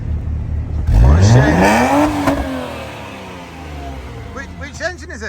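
A Jaguar XJ6 with a six-cylinder engine and automatic gearbox starts and revs hard, rising in pitch close by before settling into a rough idle, with people talking over it near the end.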